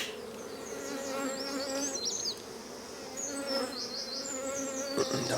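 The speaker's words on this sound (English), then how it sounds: "I'm getting buzzed a bit," Honey bees buzz densely around an open hive on a farm, individual bees whining close past the ear over a steady hum of the colony.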